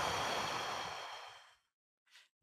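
A long, loud exhaled breath taken deliberately as part of a guided mindfulness-style exercise, sweeping breathily for over a second before fading out, followed after a pause by a short, softer breath.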